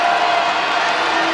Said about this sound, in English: Crowd coming alive inside Purcell Pavilion